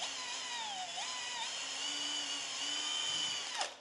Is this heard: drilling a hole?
yes